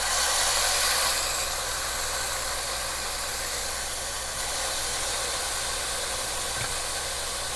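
Steaks sizzle in oil in a hot pan, a steady, broad hiss that holds at an even level throughout, loudest in the first second and with no talking over it.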